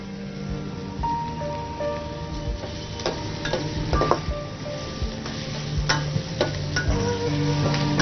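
Brinjal and drumstick sauté in hot oil as curry leaves go in, giving a steady close sizzle with scattered crackles and the occasional scrape of a spoon against the pan.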